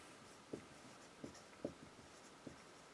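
Pen or marker writing a chemical formula on a board, four or five sharp, soft taps and strokes spaced irregularly in a quiet room.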